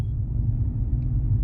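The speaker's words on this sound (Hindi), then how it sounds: "एक्सीलेटर दबाया मैंने, देखिए गाड़ी की स्पीड हो गई 40 किलोमीटर प्रति घंटा" A car being driven in third gear at about 40 km/h while the accelerator is pressed: a brief, steady, low engine rumble, close and constant.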